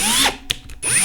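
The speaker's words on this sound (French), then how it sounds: "Donc là on va passer à la méthode avec la visseuse" Cordless power screwdriver spinning up for case neck turning in ammunition reloading, a loud whirring burst that drops off, then short bursts before running steadily again.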